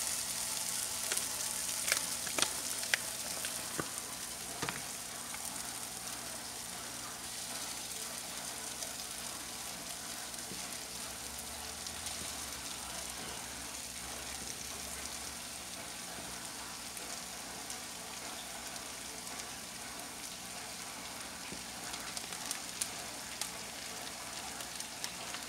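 Hamburger meat fries in a pan with a steady, fairly quiet sizzle and crackle, lasting throughout with scattered small pops near the start and no talking.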